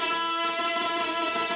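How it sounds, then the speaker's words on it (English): On a guitar, the G string is bent up a whole step to an E and held against the same note on the B string. The two pitches blend into one steady, sustained tone that is moderately loud, with no talking. "I'm going to bend the G string up a whole step until it's in tune with the note on the B string"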